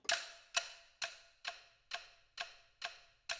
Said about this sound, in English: I'm a big fan of ticking sounds and stick sounds, and obviously